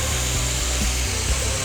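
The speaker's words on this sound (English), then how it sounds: "you basically just keep grinding till you get to the back and grind the edge to 10 to 15 thousandths" A bladesmith's grinder works the bevel of a knife blade in a continuous, loud, steady whine with slight shifts in pitch as the steel is pressed against it, with no voices.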